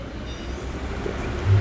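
A suburban train on its rails, a steady low rumble and rolling rattle of wagons heard nearby, growing slightly louder toward the end of the brief moment.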